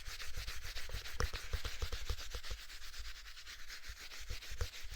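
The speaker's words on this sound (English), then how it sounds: "give it a rub with our black batting" Black quilt batting is rubbed briskly over a quilted design, a steady dry scratchy brushing with quick repeated strokes, close and quiet, with no talking.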